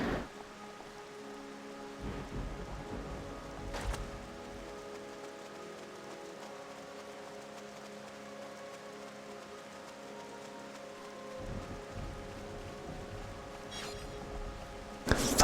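Steady rain with rumbles of thunder in the video game River Mapping Simulator, a continuous wash of rainfall with a louder thunder crack near the start and another toward the end.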